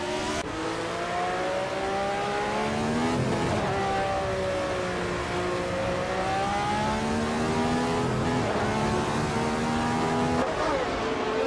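Race cars in a nonstop racing video game, engines droning and revving through gear changes with rising and falling pitch, a steady loud pack sound with tyre noise underneath throughout.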